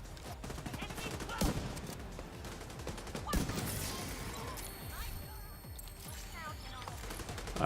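A deployable turret in The Division 2 firing on enemies, heard as a dense rattle of gunfire mixed with other shots and impacts, with a few sharper bursts standing out.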